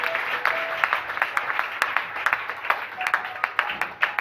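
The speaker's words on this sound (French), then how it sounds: "You might be seated and clap your hands for the Kings of Kings" Congregation applauding in a church service, steady dense clapping from many hands with sharp individual claps standing out, fairly close and sustained throughout with no talk over it.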